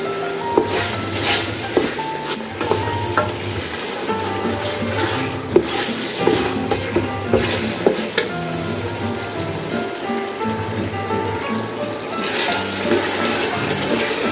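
White mutton karahi sautés in oil in a pot, a loud, close sizzle with rhythmic stirring scrapes and bubbling throughout, with no talking.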